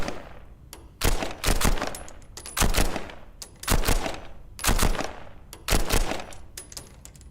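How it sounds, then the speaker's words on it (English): Non-lethal paint gun in a video game firing in rapid bursts, loud repeated clattering volleys in a steady rhythm of about six groups, alone without talk. "Paint gun, non-lethal."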